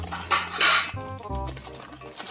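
Boiled noodles from an Indonesian takeaway mie rebus are tipped into a plate, with dishes and cutlery clinking and scraping close by for a couple of seconds.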